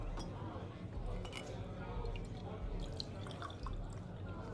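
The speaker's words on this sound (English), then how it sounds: "Oh, you're pouring beverages." In a Cyberpunk 2077 party scene, drinks are poured with soft trickling, dripping liquid and light glass clinks. Background voices murmur at low level.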